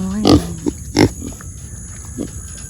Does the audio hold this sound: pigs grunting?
yes